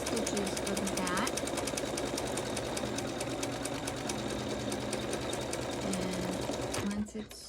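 An embroidery machine stitches the hat on a snowman rope ornament, a steady rapid mechanical hammering that runs loud and continuous before stopping abruptly near the end.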